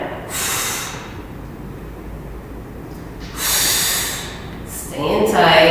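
Forceful exhales during a stability and strength workout: two or three loud, breathy bursts of air spaced a few seconds apart, heard up close over a low steady background hiss.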